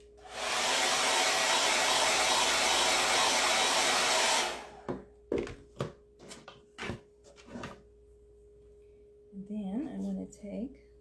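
A hair dryer blows loudly and steadily on craft pieces laid sticky side up on a towel, then cuts off after about four seconds, followed by handling clatter and a voice speaking briefly.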